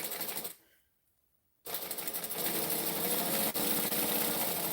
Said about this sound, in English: We're going to stitch, we're going to back stitch.